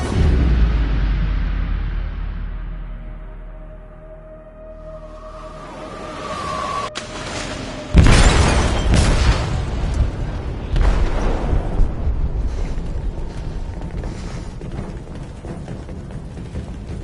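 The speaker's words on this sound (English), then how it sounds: "They detonated an explosive in the hold." An explosive detonates in a ship's hold in a video game: a sudden loud boom hits mid-clip, followed by sustained rumbling and crashing debris over a lower, steady background rumble.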